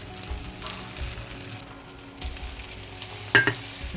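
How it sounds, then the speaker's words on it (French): Shrimp sautéing in a little olive oil in a pan, a steady soft sizzle and crackle at moderate level, with a couple of brief sharp clinks near the end. "Je les fais sauter quelques minutes dans un petit peu d'huile d'olive."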